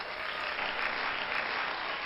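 Cheering applause effect triggered by a yay button on a writing-community livestream: a steady, dense wash of clapping that holds at an even level for about two seconds, with no voices over it.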